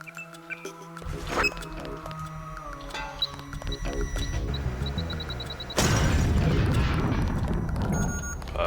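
Bomb blasts in the video game Deus Ex: game tones and clanks, then a sudden loud explosion bursts in and rumbles on to the end, alone without speech.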